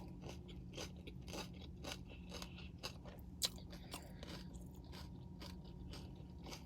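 Biting into and chewing a taco called the Mule at a mukbang: close, quiet crunches and wet chewing in a steady irregular rhythm, with one sharper crunch midway and no talking.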